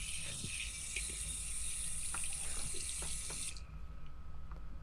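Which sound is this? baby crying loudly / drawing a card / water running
water running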